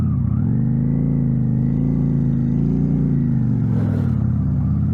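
A motorcycle engine labours and revs steadily at close range while the rider tries to pull away on a hill in second gear, the tone rising and dipping slightly with a faint clatter near the end.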